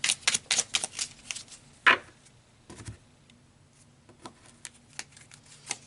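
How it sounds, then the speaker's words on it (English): A deck of cards is riffled and handled, with fast crisp flutters at first, a sharp snap, then lighter scattered ticks as individual cards are drawn, close up with no talking. "So let's pull another card."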